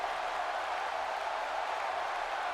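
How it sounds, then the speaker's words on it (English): Dense, steady roar of a wrestling arena crowd chanting for The Rock in WWE 2K18, a continuous broad wash of cheering at moderate level with no talk over it. "this crowd chanting for The Rock"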